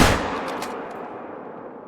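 A single loud gunshot from the hunting game Hunter: Call of the Wild, a sharp close blast at the start that decays into a long rolling echo across open terrain, with no voices.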